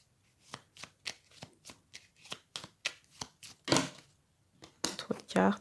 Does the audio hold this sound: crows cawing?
no